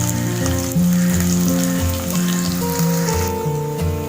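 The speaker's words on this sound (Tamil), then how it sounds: "வெங்காயம் ஓரளவுக்கு வதங்கினோன்னே" Large and small onions frying for Madurai-style mutton kuzhambu, a steady loud sizzle close up with a continuous crackle and a few tonal kitchen hums underneath.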